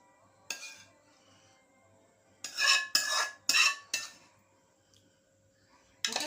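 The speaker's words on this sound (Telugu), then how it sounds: "ఫ్రెండ్స్, మనమైతే ఉడకపెట్టుకున్న ఈ చింతపండు గుజ్జునైతే వేసుకుంటున్నా." Boiled tamarind pulp going into a pan for tamarind rice: a few scraping and clinking bursts of a spoon against the pan, close and fairly quiet, separated by pauses.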